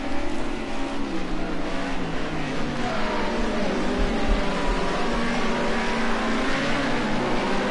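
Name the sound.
Group A touring race cars racing at Watkins Glen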